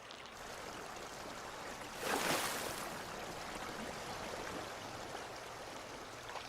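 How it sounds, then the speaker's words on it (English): A mountain river rushing in a steady broad wash of moving water, fairly close and even, swelling briefly a couple of seconds in, with no voices. "river running down the mountains just sets your energy right"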